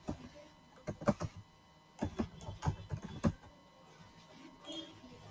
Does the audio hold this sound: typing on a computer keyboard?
yes